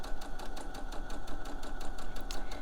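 A sewing machine runs steadily forward along a fabric seam, its needle ticking in a fast, even rhythm over a constant motor hum, close and moderately quiet with no talking.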